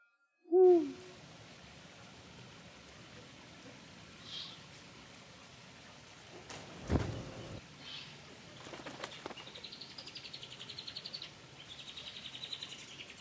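A Eurasian eagle-owl gives one deep, short hoot right at the start, then a quiet outdoor ambience follows with faint chirps and rustling.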